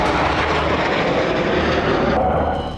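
A fighter jet's engine roars loud and close, a steady broad rushing thunder that holds throughout and eases slightly at the end.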